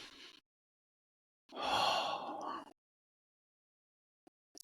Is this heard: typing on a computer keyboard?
no